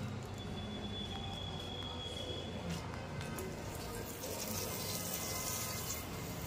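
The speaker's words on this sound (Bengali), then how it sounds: "তো সেই দিক থেকে গাছের জলটা দিয়ে নিই" Water splashing and trickling steadily while potted plants are watered at home, a continuous close wash of running water with no clear pauses.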